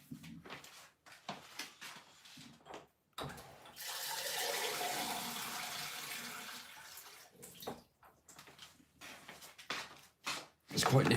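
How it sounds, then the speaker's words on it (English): Tap water rushes steadily into a coffee machine's water tank for several seconds, close and fairly loud, with a person talking before and after the fill. "And I need to fill up the coffee machine. With water, of course"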